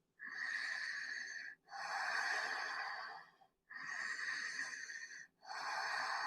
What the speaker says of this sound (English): Strong, deep Ujjayi breaths. 2 more breaths in and out.